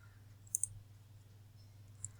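A computer mouse clicks close by in a quiet room, a quick double click followed by one more single click, faint and crisp with no speech.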